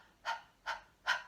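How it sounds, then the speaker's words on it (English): Three short, breathy panting exhalations in an even rhythm about 0.4 seconds apart, close and fairly soft, made as part of a choir breathing exercise. "as you make those panting sounds"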